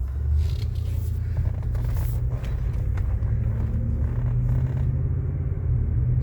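A Cadillac car on a test drive, heard from inside, gives a steady loud engine rumble and road noise as it accelerates, with a slight rise in engine pitch and no talking.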